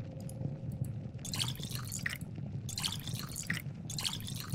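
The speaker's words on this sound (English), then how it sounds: "I just drank infected water." Drinking muddy water from a barrel in the video game Pathologic 2: bursts of splashing, trickling liquid in repeated gulping spells over a low rumbling backdrop.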